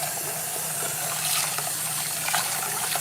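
Water sloshing and pouring in a pot as grits are rinsed and drained for Southern-style grits, a steady close hiss of running liquid that continues unbroken throughout.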